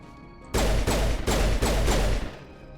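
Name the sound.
gunshots from the video game Mass Effect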